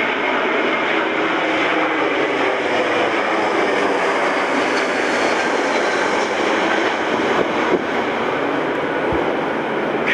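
An airplane passes overhead on the approach path to Coolangatta Airport above Currumbin, a loud, steady broadband roar that holds for about ten seconds with no one speaking.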